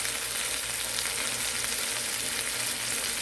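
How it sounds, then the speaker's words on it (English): Shrimp frying in a pan, a steady, even sizzle that hisses without a break throughout, close and moderately loud, with no talking. "I'm going to fry these for like a few minutes to get them"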